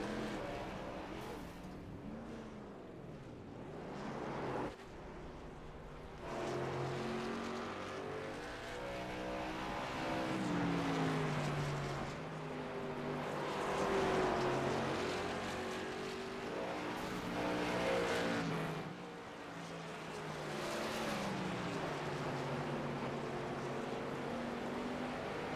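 Race car engines drone through a simulated oval race at South Boston in iRacing, several cars rising and falling in pitch as they pass, loud and continuous with no talk.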